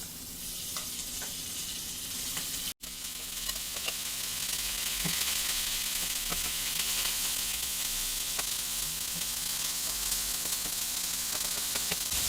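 Beef sizzles in oil on a Vevor 22-inch flat top griddle, a loud, steady frying hiss with scattered crackles and pops throughout, no voices.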